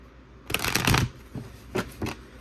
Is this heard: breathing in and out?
no